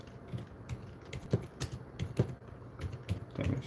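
Fingers type on a computer keyboard in quick, uneven bursts of close, crisp key clicks with short pauses between runs.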